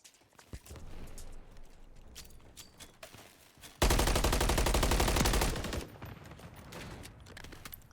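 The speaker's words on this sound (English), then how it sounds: "They fire a couple shots down that mid lane" A burst of rapid video-game gunfire rips loud and dense for about two seconds, fired down the mid lane of a paintball-style team match map between the Texas Rizers and Cleveland Assassins, set against busy game ambience with scattered footsteps and distant shots.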